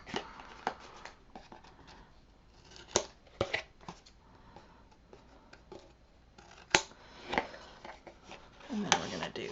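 Scissors cutting paper for a baby folio craft, a run of quick close snips and crisp slicing clicks, irregular and fairly faint, with a quiet voice talking in places.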